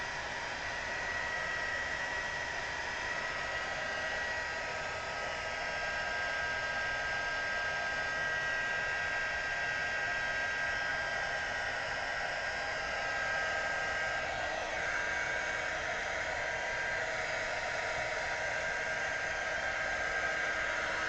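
A hair dryer blowing steadily on paint, a continuous loud airy whoosh with a faint motor whine, holding nearly unchanged for about twenty seconds with no voices.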